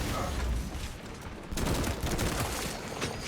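Bolt pistol fire in Space Marine 2, rapid repeated sharp shots in a dense burst, loud and close, with a brief lull midway and a voice speaking faintly under the combat noise.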